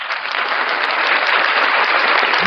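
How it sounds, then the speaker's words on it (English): Thick, even applause from many hands rolls on steadily and loud, with no talking over it. "Let me get a clap on that."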